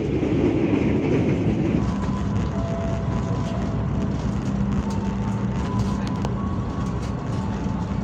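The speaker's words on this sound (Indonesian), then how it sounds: "KA Bogowonto kembali diberangkatkan dari stasiun Bekasi jam 22:12" KA Bogowonto passenger train pulling out of Bekasi station at night, a loud continuous rumble of wheels and carriages with a steady roar and faint higher squeals, close and unbroken throughout.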